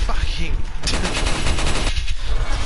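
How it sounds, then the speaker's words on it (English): Rapid, loud bursts of Tommy gun fire from Resident Evil 4, with a dense rattling stream of automatic shots, a brief pause, then another sustained burst. "fucking infinite ammo Tommy gun, you know?"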